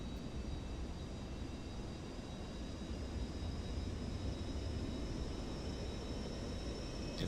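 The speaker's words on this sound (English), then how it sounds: "Wait for the APU to come on." An airliner's auxiliary power unit in Microsoft Flight Simulator 2024 gives a steady, faint whining hum with thin high tones over a constant broadband rush, unchanging throughout.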